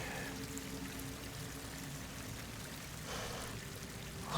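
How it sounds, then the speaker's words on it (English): Water pouring into an enclosed space in the video game Horizon Forbidden West, a steady, moderately quiet rushing stream that continues unbroken, with a brief louder splash at the very end. "Water's coming in."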